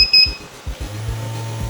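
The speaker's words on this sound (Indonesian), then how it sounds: "ada mode alarm intruder juga, artinya ada maling" A smart home intruder alarm sounding: a high electronic beep at the start, then a rapid series of low pulsing buzzes joined by a sustained low tone, loud and close.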